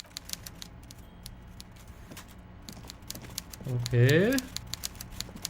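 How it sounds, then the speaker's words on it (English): A typewriter in the video game Disco Elysium clatters with scattered, irregular key strikes throughout. A voice speaks briefly and a short, rising tonal sound cuts in near the end. "Evrart Clare clatters away on his typewriter, willfully indifferent to your presence"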